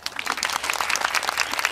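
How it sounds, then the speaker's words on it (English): Applause from an audience at a media and technology talk as a guest speaker is welcomed, a short burst of dense, steady clapping heard alone at moderate level. "Let's give him a round of applause."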